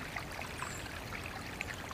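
Small creek water trickling and splashing over debris in the streambed, a steady close babble with scattered brighter drips and no voices.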